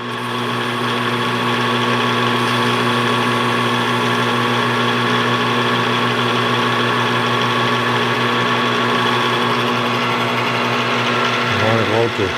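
A nine-cylinder radial engine runs steadily after being cranked, a dense droning hum with strong even harmonics holding at a constant loud level throughout, with a brief change in tone near the end.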